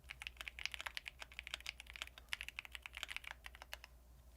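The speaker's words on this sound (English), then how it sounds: "Why am I typing, man?" Rapid typing on a computer keyboard, a steady flurry of light clicking keystrokes up close that stops near the end, with no talking.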